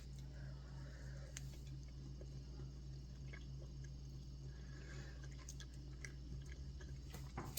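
Someone chewing a mouthful of keto chocolate cake made with gelatin, soft, moist, close mastication sounds with small clicks, steady for several seconds over a low hum.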